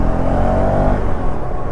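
A KTM Duke 390 Gen 3 motorcycle from 2025 pulls hard under acceleration, a dense, steady engine roar with wind rush, loud and close throughout.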